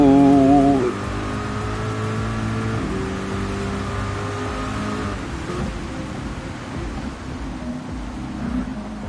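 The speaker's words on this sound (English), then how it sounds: "driving, accelerating this fast in these conditions is sort of feast or famine" A race car in a video game accelerates around a rain-soaked Suzuka circuit, its steady engine tones shifting in pitch over a constant wet hiss of spray.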